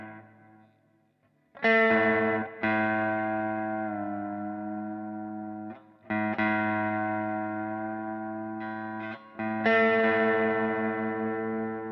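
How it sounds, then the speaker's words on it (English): A Glarry Tele-style electric guitar played on its neck pickup, with effects on the tone: four strummed chords ring out loud and sustain, each fading slowly before the next, with no one talking. "Pickups sound quite good again, that's the neck pickup."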